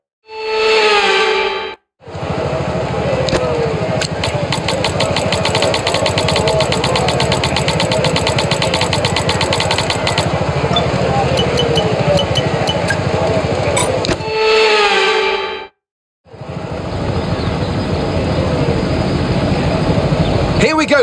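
F1 race cars on a wet formation lap in F1 25, a steady loud engine drone with rising and falling revs, broken by two brief gaps, with spoken commentary running over it.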